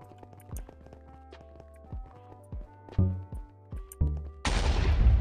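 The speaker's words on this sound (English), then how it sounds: "Oh, an explosion!" Explosion in Hypixel Bedwars, a block-building video game, follows a run of short sharp thuds and clicks like footsteps and hits, then bursts into a loud, sustained roaring blast near the end.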